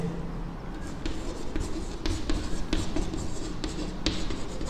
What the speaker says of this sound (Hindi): अब लिखते हैं